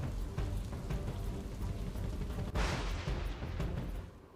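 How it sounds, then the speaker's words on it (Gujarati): Heavy morning downpour across South Gujarat near Navsari hisses as a dense, steady roar, with a sharper, louder surge of rain hitting surfaces about halfway through. "દક્ષિણ ગુજરાતના તમામ જિલ્લાઓમાં સવારથી ધોધમાર વરસાદ વરસી રહ્યો છે"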